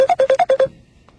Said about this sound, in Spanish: está tremendo ese teléfono, es el mío